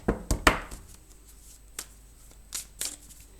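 Oracle cards being shuffled by hand: a few quick riffling bursts at the start, then scattered soft flicks and taps spaced across the rest, close and fairly quiet, with no talking.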